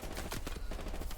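Gunfire in the World War II shooter Hell Let Loose, set in Hürtgen Forest, a quick string of sharp rapid shots firing in bursts over about a second.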